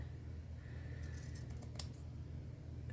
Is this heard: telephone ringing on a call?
no